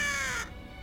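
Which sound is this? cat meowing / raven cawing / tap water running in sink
raven cawing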